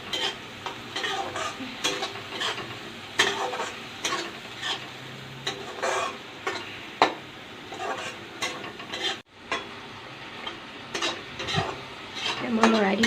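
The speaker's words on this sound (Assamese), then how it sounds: "লৰাই দিম অলপ ভালকৈ" A spoon scrapes and clacks against a cooking pan in quick, irregular stirring strokes over a faint sizzle, close and fairly quiet, with no talking.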